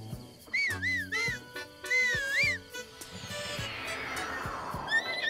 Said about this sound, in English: And if I whistle,